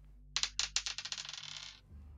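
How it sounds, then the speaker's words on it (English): A real die rolls and clatters across a hard surface, a burst of quick bouncing clicks that speed up and fade over about a second and a half, close and alone. "I have an actual dice to roll here."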